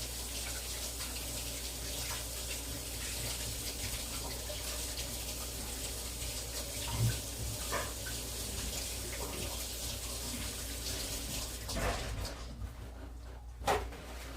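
Hands being washed under a running kitchen tap while cooking, a quiet, steady stream of water with occasional soft splashes and handling noises near the end, no talk.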